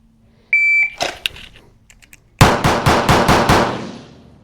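A SIG P211 pistol fires at a shooting range. A shot timer beeps, a few scattered shots follow, then a fast string of six loud, sharp cracks rings out close by.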